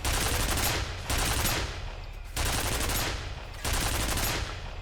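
Sustained automatic turret fire in the shooter game F.E.A.R., loud, dense bursts that run for about a second each, separated by short gaps, with no voices over them.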